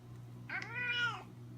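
Bacardi, a hungry cat, lets out a single drawn-out meow that rises and falls, close and clear over a low steady background hum.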